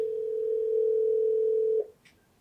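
Telephone dial tone on a phone call, a single steady tone held for almost two seconds before cutting off, followed by a faint brief blip.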